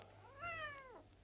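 A single stray cat gives one drawn-out, rising-then-falling meow, close and clear against a quiet outdoor street background.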